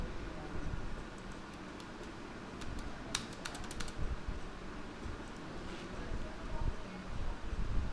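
Quiet, irregular clicking of fingers typing on a computer keyboard, with brief pauses between short bursts of keystrokes.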